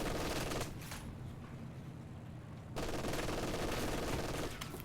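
An MG42 machine gun fires in Company of Heroes 2, short bursts of rapid automatic fire bracketing a quieter gap, fairly loud in a busy battle mix.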